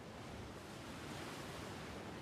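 Sea waves wash steadily around a pirate ship in a Doraemon cartoon, a constant broadband surf hiss with no voices.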